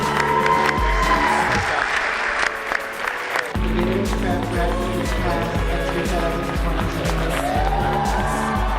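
An audience applauds a graduating high school student, a steady wash of clapping mixed with tonal music that runs throughout with no break.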